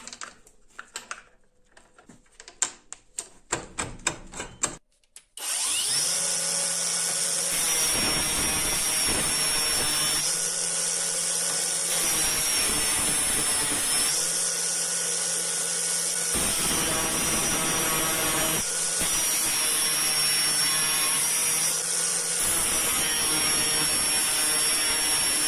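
Angle grinder fitted with a flap disc runs in a workshop, a loud steady high whine and hiss after a few clicks and taps, with brief shifts in pitch as it bites the work.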